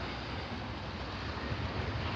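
Ocean surf rolling onto a beach, a steady broadband wash with wind buffeting the microphone, continuous and fairly loud throughout, no voices.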